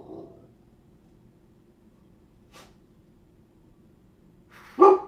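A single dog bark, close and sudden, after a long quiet stretch with a faint click midway.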